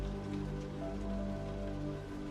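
Steady rain falls in a quiet corner, a faint, even patter spread across the whole moment with no voices and no breaks.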